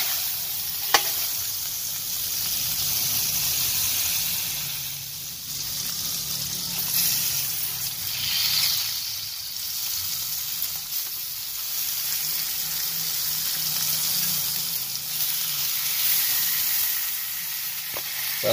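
Butter sizzling in a hot pan used for grilling meat, a continuous bright crackling fry that swells and eases with occasional stirring scrapes and a couple of sharp clinks, close and steady, without talk.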